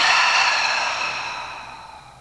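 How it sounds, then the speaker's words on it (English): A single long exhale through the mouth after a deep breath, a close, airy breathy rush that starts strong and slowly fades away. "maybe you take a bigger breath in through the nose and an exhale from the mouth"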